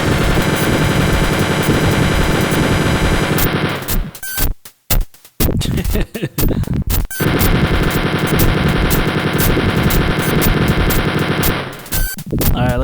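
Rapid machine-gun fire from enemies in Wolfenstein 3D, loud sustained bursts that break off briefly into a few scattered shots before the continuous rattling resumes.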